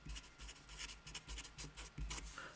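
A pen writes out a formula by hand, soft close scratching strokes in quick rhythmic bursts, with no talking.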